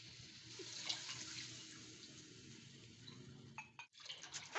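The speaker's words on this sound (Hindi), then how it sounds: "ये हमारा 4 कप दूध जो है ना, इसमें डाल गया।" Four cups of milk poured into a hot pan of ghee and moong dal, giving a steady, close liquid pour with sizzling and bubbling that swells and breaks near the end.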